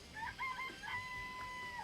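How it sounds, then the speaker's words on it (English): Chickens in a chicken coop from the video game Danganronpa, a rooster-like crowing call rising and holding over faint background hum, fairly quiet. "Let's look in the chicken coop. I remember there were some chickens in the chicken coop."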